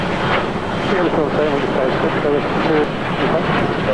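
A United Airlines Boeing 737 MAX 9 arriving at LAX from Denver, heard as a steady, broad jet roar that holds loud and even throughout, with a voice talking over it.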